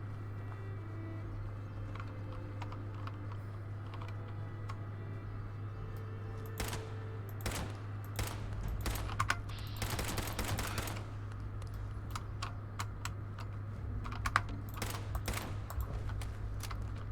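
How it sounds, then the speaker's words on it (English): An old white-grey IBM Model M keyboard clacks in irregular bursts of sharp, loud key strikes, dense around the middle and scattered later, over a steady low hum. "it's an IBM Model M. You know, the really old sort of white grey IBM keyboard."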